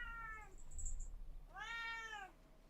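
Callie the cat gives two close meows, a short one and then a longer drawn-out moan, over a quiet background.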